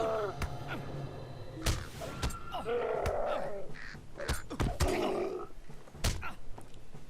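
Birds caw repeatedly in Lord of the Rings Online, harsh calls mixed with sharp thuds and impacts from combat in the game, fairly close over a steady background bed.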